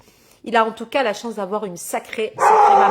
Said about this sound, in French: alors ça c'est le chien